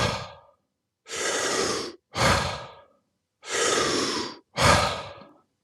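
Deep breathing exercise with full breaths, four long loud airy inhales and exhales in a steady rhythm, close up with silent pauses between, after a fading breath at the start.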